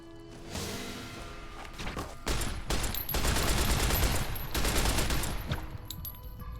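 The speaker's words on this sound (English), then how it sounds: "I don't know what I'm shooting at." Rapid bursts of gunfire in Fallout: New Vegas, shots fired at a fiend near a camp, coming as dense loud volleys that swell after a quieter opening and keep going to the end.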